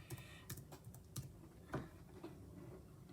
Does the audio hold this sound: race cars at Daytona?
no